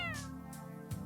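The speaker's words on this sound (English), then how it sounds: "Oh, here's the bad kitty." Cat Ryan in the video game Heart Cage gives a single drawn-out meow, close and clear, with soft background music underneath and no talking.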